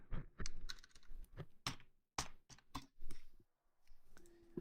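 Computer keyboard typing during a strategy game, a close, fairly quiet run of irregular key clicks and taps in short bursts with brief pauses between them.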